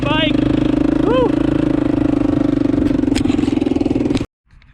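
A dirt bike engine runs steadily at high revs during a ride on a farm, loud and close with a buzzing drone and a few shifts in pitch, then cuts off abruptly near the end.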